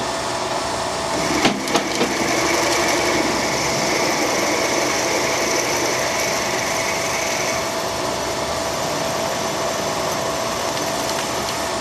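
Cheap Bango drill bits boring into hard steel on a machine, a steady whirring grind with a sharp catch early on, continuing evenly and loudly throughout.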